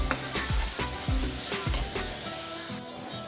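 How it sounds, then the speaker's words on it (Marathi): Raw onion and tomato fry in oil with ginger, garlic and peanut masala for a Marathi potato-pea curry, giving a dense, close sizzle with several sharp, rhythmic spoon taps and stirring thumps. "कांदे टमाटे कच्चे असल्यामुळे याला आपण छान तेलामध्ये भाजून घेऊया"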